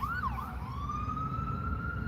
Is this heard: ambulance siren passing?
yes